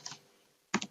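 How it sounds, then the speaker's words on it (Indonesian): A computer keyboard clicks with one keystroke, a pause, then a quick close burst of three keystrokes while code is entered. "Kita ketik"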